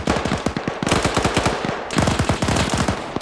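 A PKM machine gun in a video game fires two long, rapid bursts with a short break between them, loud and close.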